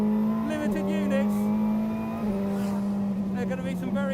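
A McLaren 720S GT3X race car engine roars and revs hard, climbing through gears with short shift breaks and a faint tyre squeal, while someone talks over the loud, close engine.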